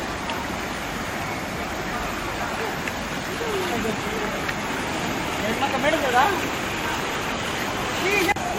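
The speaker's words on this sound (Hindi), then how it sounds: "नाले के ऊपर से पानी बहने से आवागमन बाधित" Floodwater from the swollen Mukram stream at Chintalnar pours over the top of a drain crossing, a steady broad rushing roar throughout with faint voices in the background.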